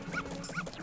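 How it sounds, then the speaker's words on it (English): A dog in the video game Majora's Mask gives two short, fairly clear barks or yips about half a second apart, set against a steady game background hum. "this dog will attack us"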